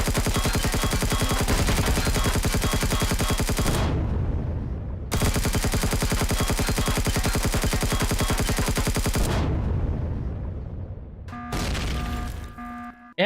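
Sustained rapid automatic gunfire in the space-building game Empyrion, loud and continuous for about four seconds, then again for another four, followed by a brief burst amid tonal game effects.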